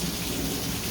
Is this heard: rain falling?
yes